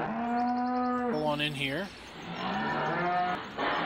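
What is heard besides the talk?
cows mooing in video game Farming Simulator 17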